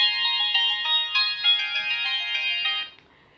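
A telephone rings with a steady electronic ringtone, loud and close, repeating in a continuous warbling pattern for about three seconds before cutting off as it is answered.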